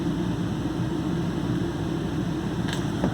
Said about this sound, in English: The fan that they're talking about is just the air conditioner running without the compressor.